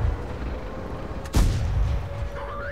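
A T-54 tank fires its main cannon in the World of Tanks game, one sharp loud boom with a rumbling tail over a low ambient hum.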